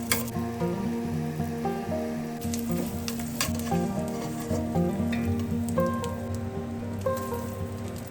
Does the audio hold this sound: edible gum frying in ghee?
yes